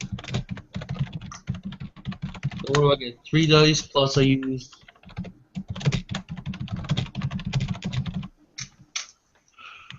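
Rapid clattering keystrokes on a computer keyboard while notes are written during a tabletop role-playing session, steady bursts of typing close by under ongoing conversation.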